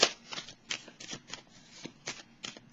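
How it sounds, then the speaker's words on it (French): Tarot cards are shuffled and drawn from a deck, producing a quick series of crisp papery flicks and riffles in an irregular rhythm, close up, with no one speaking. "j'ai le goût de piger une carte sur la solitude"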